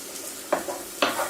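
Onions sizzling in a very large pan on a portable hob, a steady soft frying hiss under two sharp scraping stirs from a utensil, with no talking.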